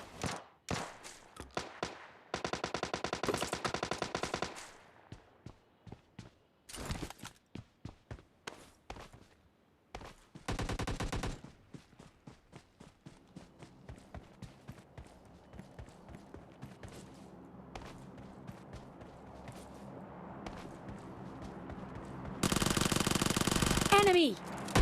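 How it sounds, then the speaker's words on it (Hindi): Gunfire in a battle royale video game: rapid automatic bursts and single shots crackle loudly in clusters, with footsteps and quieter gaps between them and a final heavy burst near the end. "सामने से भी गन्स की आवाज़ आ रही थी"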